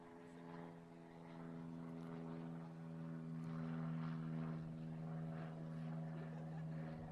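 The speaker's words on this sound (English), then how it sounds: "Let me pause as we gaze at the plane." A propeller airplane drones overhead at an outdoor school commencement, a steady low humming engine tone that holds faint and distant throughout, with no talking.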